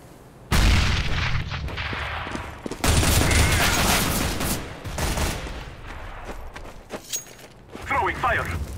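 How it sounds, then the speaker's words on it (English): Grenade blasts and rapid gunfire in the shooter game Counter-Strike, loud booming bursts and rattling shots in two heavy waves, then quieter scattered pops, with voices shouting over the action. "I'm throwing a grenade!"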